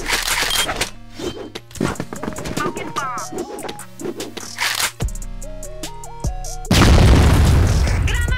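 Grenade explosion in a first-person shooter video game, a loud boom and roar near the end following busy gunfire and game sounds, with players talking.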